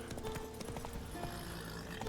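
Hoofbeats from Roach, the horse in the video game The Witcher 3: Wild Hunt, clop in a quick steady rhythm, faint and set in a dense game soundscape with a snort or whinny near the start.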